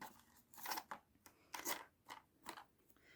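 Scissors snipping pieces of tape for a junk journal tab binding, a series of about seven crisp close cuts in an uneven rhythm with short quiet gaps between them.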